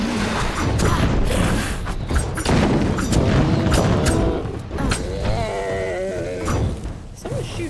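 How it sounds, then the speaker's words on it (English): Gunfire aimed at a bear in the video game Kingdoms of Amalur: Re-Reckoning, booming shots and crashes layered in loud, busy game audio with a dense mix of effects. "Someone's shooting at me."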